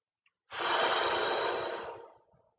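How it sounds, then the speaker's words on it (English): A single long, slow exhale during yoga breathing, starting suddenly and fading gradually over about two seconds, a close, airy breath with no talking. "I want you to breathe in for 4 and out for 4."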